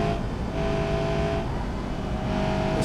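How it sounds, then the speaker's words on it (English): An automatic car in BeamNG labouring in fourth gear, its engine droning at a low, strained pitch under load, steady and loud with slight surges. "Oh god, it's in 4th gear, it doesn't want to go anymore."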